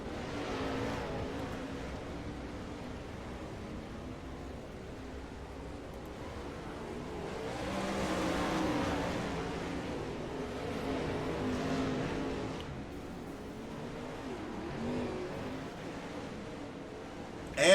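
410 sprint race cars running warm-up laps at Kokomo, a steady moderate engine drone that swells and fades as cars pass around the track, no voices.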